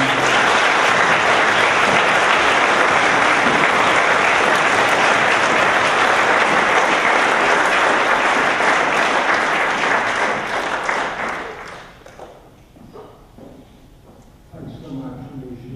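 An audience at the University of Miami applauds to welcome a speaker, dense sustained clapping that stays loud for about ten seconds before fading out, with faint voices and shuffling in the quieter tail.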